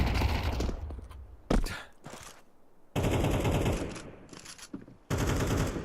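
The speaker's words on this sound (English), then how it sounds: "There's a lot of bullets being spammed through smokes" Gunfire from a Counter-Strike match, bullets sprayed through smoke: loud bursts of automatic fire in several long runs broken by brief pauses, sharp and close.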